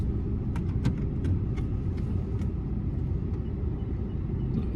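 A car rolls slowly straight backward during a Florida driver's license road test, its engine a steady low rumble close by with no talk.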